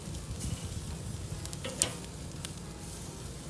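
A freshly flipped bavette steak sizzles on a charcoal grill with a steady, moderate crackle and hiss, broken by a few small pops and a brief clink partway through.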